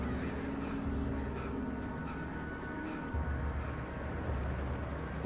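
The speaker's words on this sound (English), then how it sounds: "Birds!" A flock of crows caws in the Alan Wake video game, harsh calls scattered over a steady rumbling game ambience with no talk.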